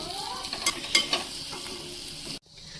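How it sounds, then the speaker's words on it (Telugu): Prawns fry in a pan with crushed garlic and ginger-garlic paste, giving a steady close sizzle broken by a few scraping stirs of a spoon against the pan. "పచ్చగా దంచిన ఎల్లిపాయలు, కొంచెం అల్లం వెల్లిపాయ పేస్ట్ వేసి ఇంకొక 1 మినిట్ వేయించాలి."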